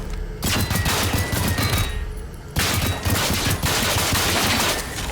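Dense gunfire in the video game Generation Zero during a pistol-only base defence, a continuous loud barrage of rapid shots and impacts with a brief lull near the middle before it resumes just as hard.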